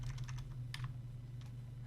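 Typing a command on a computer keyboard while playing Feed The Beast: a few soft, quick keystroke clicks in small clusters over a steady low hum.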